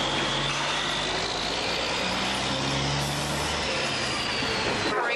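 Heavy delivery trucks hauling post office and express carrier shipments by road rumble steadily nearby, a continuous dense engine drone with a brief hiss of air brakes near the end.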